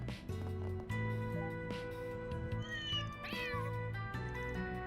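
A cat meows in a video game, several drawn-out and wavering calls over a busy bed of game music, at moderate level with no talking.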